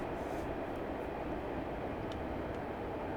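A Class 142 Pacer diesel train in Train Simulator Classic slowing to a stop, with a quiet, steady rumble of wheels and running gear and faint occasional squeaks, no voices over it.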